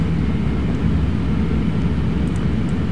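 Airliner taxiing in Flight Simulator X: a steady, loud engine drone with a low rumble, continuous and unchanging, without talk.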